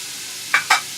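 Peppers and celery going into melted butter, two short sharp sizzling bursts over a constant frying hiss, close and fairly loud.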